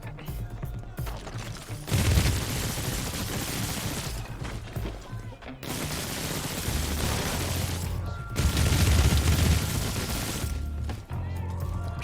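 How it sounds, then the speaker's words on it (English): Heavy, repeated thumping power shots in inFamous Second Son, coming in loud sustained bursts with short breaks between them, dense and booming over the game background. "There's something really satisfying about all those thump thump thump noises that power makes when you're shooting people with it"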